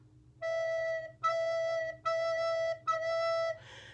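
A single low E note sounded four times as even quarter notes, each tone steady and held nearly a full beat with brief gaps between, fairly quiet over a faint low hum.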